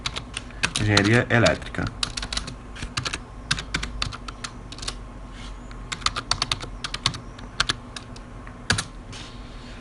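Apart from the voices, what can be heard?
typing on a computer keyboard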